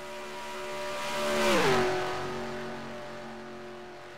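In a sim racing video game, a race car's engine whine swells as it approaches, drops sharply in pitch as it sweeps past, then fades to a steady distant drone of the pack.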